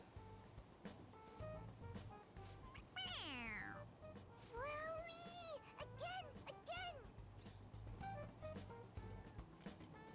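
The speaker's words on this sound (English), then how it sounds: "It meows when you press on its head." A stuffed toy cat in the Persona 5 Royal video game meows repeatedly when pressed, several drawn-out mewing calls spread across the stretch over a steady background hum of game music.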